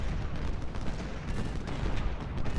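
Musket volleys crackle without pause in an Ultimate General: Civil War battle: dense, steady massed gunfire with overlapping shots, fairly loud and continuous throughout.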